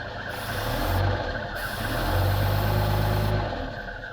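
Original Rover 75 (P3) car's engine running steadily near at idle, a low continuous hum with swelling and easing revs, no talk.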